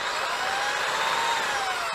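A variable-speed electric drill runs steadily and loudly from start to finish, its motor whine holding a constant pitch that sags slightly toward the end, with no voices over it.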